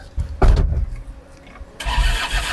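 A car engine cranks and catches, with a loud burst followed by a rougher idle and a renewed surge of engine noise near the end, recorded close by outdoors.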